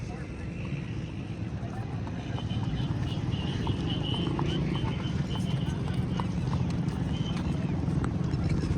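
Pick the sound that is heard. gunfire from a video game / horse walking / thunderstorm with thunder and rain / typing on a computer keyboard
horse walking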